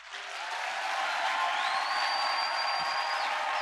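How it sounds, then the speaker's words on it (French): A church congregation applauding, a dense, steady wash of clapping from a crowd filling the room, continuous and fairly loud for several seconds. "tu peux maintenant acclamer"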